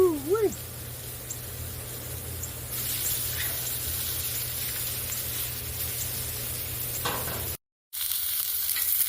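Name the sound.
meat (London broil and chuck roast) searing and sizzling in a pan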